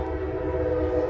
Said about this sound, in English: Oh yes, we're near the trains.